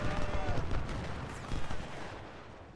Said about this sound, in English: The artillery that you hear is actually my artillery hitting his guy hitting his unit to the left